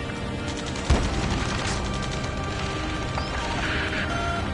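Rapid cannon bursts and explosions from a jet dogfight in the Ace Combat video game, a dense continuous roar of gunfire with a sharp impact near the start and steady loud fire throughout.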